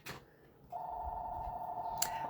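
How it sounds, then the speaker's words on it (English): A house phone rings indoors with a brief click, then a single steady electronic tone that holds unbroken and fairly loud, with a short sharp tap near the end. "it's a house phone, forgot to turn it off"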